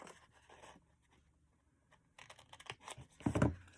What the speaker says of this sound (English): I'm going to cut along the score lines up to that bottom score line